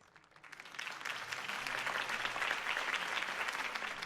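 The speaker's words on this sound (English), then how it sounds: "If only Mr. Wayne, my campaign's largest backer, could have heard that applause" Crowd applause after a campaign speech in the Batman Telltale video game, rising from a quiet start into steady, dense clapping that holds for several seconds with no talking.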